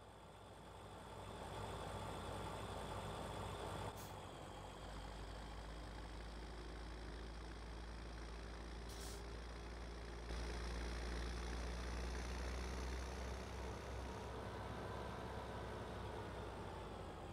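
A tractor engine idles in a farming game, a steady low rumble with a constant hum that stays even throughout and briefly deepens partway through, without any talking.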